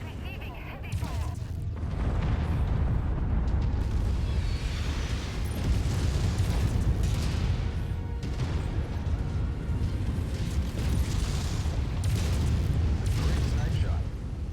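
Heavy weapons fire and explosions from battling mechs in Mechwarrior 5, a steady low rumble punctuated by repeated booming bursts, with voices talking at moments over the din.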